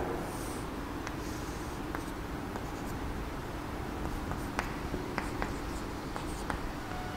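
A pen scratches and taps across a board while an angle is drawn, giving a steady run of short, light strokes over faint background hiss, with no one speaking.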